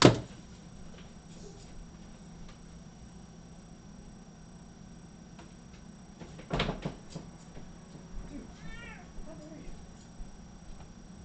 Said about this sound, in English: Cat's throwing up, so I just moved into the kitchen.